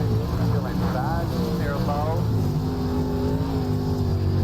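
A dirt late model race car engine drones and revs under throttle in the iRacing video game, its pitch rising and falling through corners beneath steady speech, with other cars faintly audible around it.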